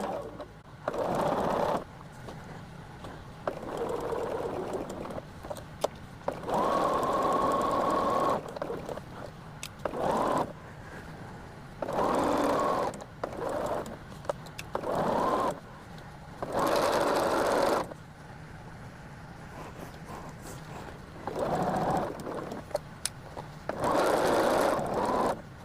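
A home sewing machine stitches a quilt top in several bursts of steady whirring, each lasting a few seconds and split by short pauses. The machine sounds close and runs alone, with no talk over it.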